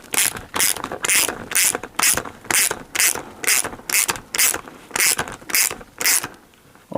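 Rapid ratcheting clicks from an Allen key tightening skateboard truck hardware on new RTKP 340mm trucks, coming in about a dozen even bursts up close, each a crisp run of pawl clicks, with no talk.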